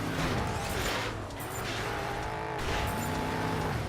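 Car engine roaring steadily and close in Carmageddon Reincarnation while running down an opponent, a continuous loud motor drone with shifting pitch and no talk over it.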